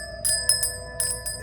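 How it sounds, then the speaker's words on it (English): A bell is rung to cleanse the space before a tarot reading, giving several clear, bright metallic rings in quick succession, each lingering with a sustained shimmering tone. "let's begin this reading by ringing the bell"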